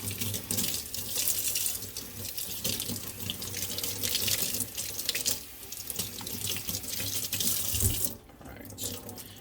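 Tap water runs steadily from a faucet into a sink while soap is rinsed out of a Monster High doll's saran hair, a continuous close splashing stream that shifts briefly near the end.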